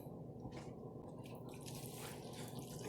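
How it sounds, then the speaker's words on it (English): Liquid poured into oven-roasted pulled pork in a pan, faint soft splashes and drips in a few short bursts over a low background hum, no talking. "Then we're going to throw in some of our liquid."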